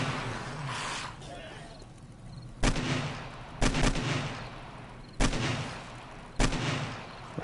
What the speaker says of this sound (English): I'll shoot all your legs off, man.